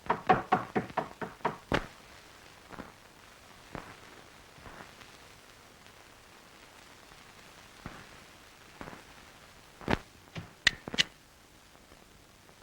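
Knocking on a door, a quick run of sharp raps at the start, then scattered single knocks and a closing cluster of several knocks, with quiet gaps in between and no talk.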